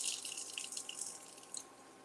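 Cool tap water runs into a measuring cup for gravy while a pot boils nearby, a faint hissy trickle with a few soft drips throughout.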